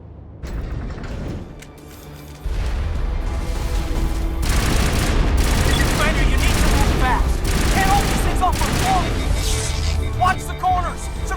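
Battle gunfire from the Mass Effect video game crackles in dense bursts and rattling volleys with booms and mechanical clanks, loud and continuous after a quieter start, with voices shouting over the shooting.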